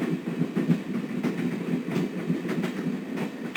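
A train rolls steadily along its rails in the video game Broken Sword 1, with a continuous low rumble and a faint rhythmic clickety-clack, heard alone.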